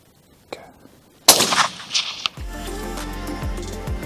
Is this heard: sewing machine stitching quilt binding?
no